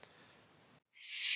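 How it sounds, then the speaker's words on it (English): A bird calls nearby, a bright hissy shrill burst rising at the end after a brief quiet gap, faint background before it. "sorry, there's a bird"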